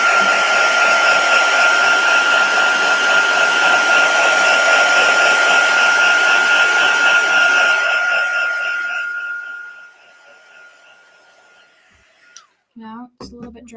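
A hair dryer blows steadily and loudly on a freshly painted stencil layer, a constant roaring whoosh that fades away after about nine seconds, followed by near silence and a few brief handling clicks.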